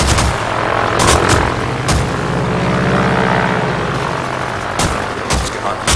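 A warplane engine in World of Warplanes drones loudly and steadily throughout, broken by repeated sharp bursts of gunfire and impacts.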